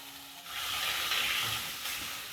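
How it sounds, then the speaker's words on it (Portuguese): Seasonings hit hot olive oil in a heated pan for empadinha filling, giving a steady, close hissing sizzle that rises quickly and holds. "Vamos refogar esses temperos aqui."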